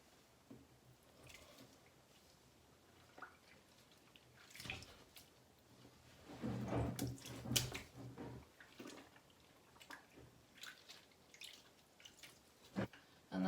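Wool fleece is gently lowered into a container of soapy water on a farm, making faint wet squishes, drips and soft sloshing that rise briefly in the middle, with no voices.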